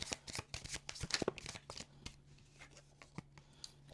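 Tarot cards from an Oracle of the Divine deck are shuffled and handled, producing a quick run of soft crisp flicks and riffles close by, then a few scattered taps and slides as a card is drawn.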